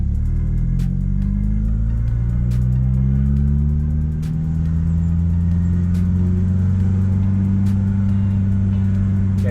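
A manual-transmission car pulls away as the clutch is let out slowly, its mid-pitched engine rumbling steadily and rising slightly in pitch as it moves off, close and loud throughout with no talking.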